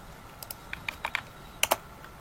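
Fingers type on a computer keyboard, tapping out a short run of crisp, close keystrokes in an irregular rhythm before one louder final press of the Enter key.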